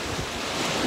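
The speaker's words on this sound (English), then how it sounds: "There it is, there's a big old splash." Ocean waves surging and splashing near a shore on Rhodes, a broad steady wash of surf with wind buffeting the microphone, loud and close for about a second with no voices.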